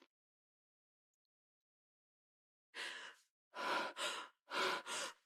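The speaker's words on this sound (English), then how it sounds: "Your breathing's too rapid." A pregnant woman breathes in quick, audible breaths after a silence, one longer exhale followed by two close pairs of rapid breaths, near and clear with no talking.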